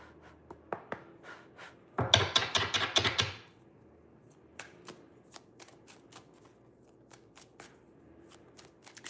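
Tarot cards riffle-shuffled up close, a dense burst of rapid flapping lasting about a second and a half, framed by scattered soft taps and card handling before and after, with no talking.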